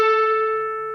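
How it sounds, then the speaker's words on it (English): A single sustained electric guitar note played on the 14th fret, struck cleanly and ringing with rich overtones as it slowly fades. "it should sound like the note on the 14th fret"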